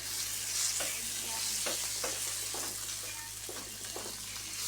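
Sardines sautéing in a pan for ginisang sardinas with misua, a steady sizzle of frying under repeated scrapes and stirs, close and continuous.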